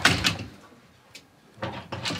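A fragile-sounding bathroom door in a Paris palace hotel being handled, giving two loud close bursts of knocking and rattling separated by a quiet pause.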